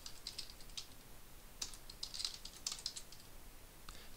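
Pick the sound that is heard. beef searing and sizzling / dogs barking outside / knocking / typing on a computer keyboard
typing on a computer keyboard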